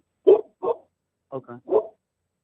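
A dog barks close by in a few short, sharp bursts with brief gaps between them, loud and clear against silence.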